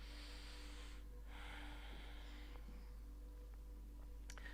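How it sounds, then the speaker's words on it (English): Long, deep nasal breathing during a chair yoga stretch, a soft close exhale followed by quieter breaths and faint rustles. "Still breathing long and deep through the nose."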